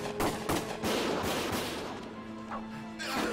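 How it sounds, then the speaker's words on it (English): Gunfire in the Valkyria Chronicles video game, a cluster of sharp shots and impacts near the start, then quieter scattered bangs over a rumbling battle background. "Gunfire!"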